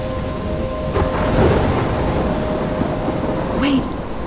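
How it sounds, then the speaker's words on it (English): Thunderstorm with heavy rain in the video game Life Is Strange: a constant rain hiss with deep rolling thunder rumbles swelling near the start and again toward the end. "I'm trapped in a storm?"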